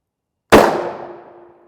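A 5.56 rifle round striking a steel body armor plate: one sharp, loud crack with a bright metallic clang that rings and decays over about a second, alone after silence.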